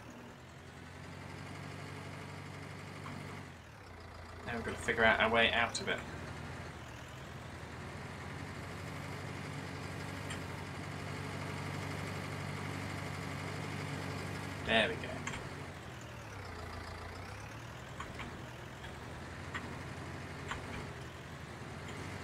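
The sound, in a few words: tractor engine in Farming Simulator 19 video game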